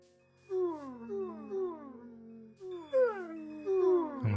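A pack of dogs howls in the Minecraft game with the Create mod, long rising and falling wails overlapping in two bursts, fairly close and loud with no talking.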